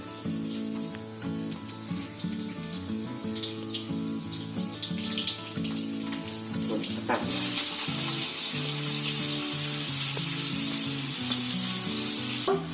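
Mustard seeds and garlic hit hot oil for a banana flower stir-fry, bursting into a loud, dense sizzle midway after a stretch of quieter clinking over a steady tonal background.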